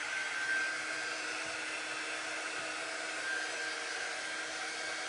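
A hair dryer blows hot air to dry chalk paste on a craft project, a constant loud whooshing hum that runs unbroken from start to finish, close to the microphone and with no voices.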